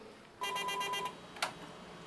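Telephone dialing 119, a run of rapid evenly spaced keypad tones followed after a short pause by a single brief electronic burst, faint and close.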